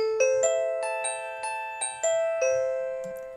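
A podcast segment chime: a bright, bell-like sequence of about eight ringing struck notes in a gentle rhythm, each sustaining and overlapping into a resonant decay, clean and close with no talking.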